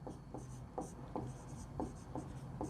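Pen writing an equation on paper: a steady run of short scratchy strokes with brief lifts between them, close and fairly quiet, with no voices.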